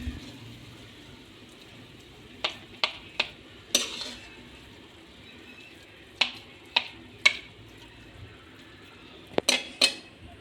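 Halwa served onto a plate: a series of sharp metal-on-plate clinks and scrapes of a serving spoon, spaced irregularly in small clusters, close and fairly quiet against a soft background hum.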